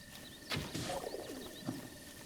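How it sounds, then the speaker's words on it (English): Soft bird calls and cooing chirps from the Zelda Breath of the Wild game world, faint and scattered over a low ambient background with no talking. "Oh, hey, a bird."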